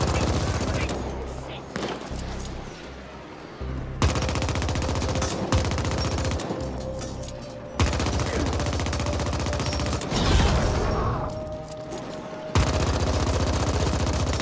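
Rapid automatic gunfire in the video game The Ascent, loud, close bursts broken by short pauses across the stretch, with scattered impacts and game sounds layered in.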